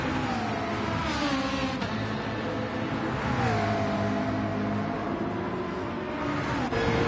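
Race car engine held at full throttle on the Nürburgring in a racing video game, a loud sustained roar with rising pitch sweeps and a brief dip as gears change.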